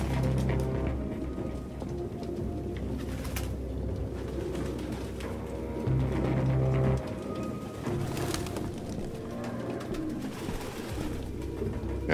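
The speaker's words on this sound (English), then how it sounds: "No human could live with all these fucking pigeons." Pigeons coo continuously in a dense flock inside a Detroit: Become Human apartment, deep throaty calls overlapping at close range with brief bursts of wing fluttering.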